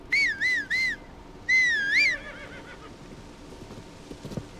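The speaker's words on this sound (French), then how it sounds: "On va appeler notre cheval." Synthetic horse whinnies from The Legend of Zelda: Tears of the Kingdom, three short neighs and then a longer one, followed by a faint patter of hoofbeats.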